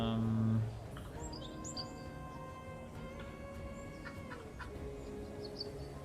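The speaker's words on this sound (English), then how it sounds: "some chicken running around" Chickens cluck and chirp in an Unreal Engine MMO game village near a chicken coop, with short repeated calls over a steady ambient bed after a louder opening tone.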